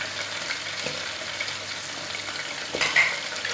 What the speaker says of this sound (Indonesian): Kemudian diaduk sampai merata.